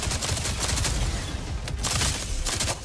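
Dense, continuous rapid gunfire from a mission-based space shooter video game, a loud unbroken barrage of overlapping shots with a few sharper bursts standing out, no voices over it.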